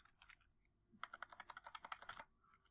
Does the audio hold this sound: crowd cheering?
no